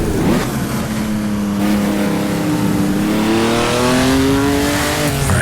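Ferrari 250 GTO engine in a racing video game on the Targa Florio, a steady loud revving drone whose pitch climbs and shifts through gear changes, with faint tyre noise and no talk.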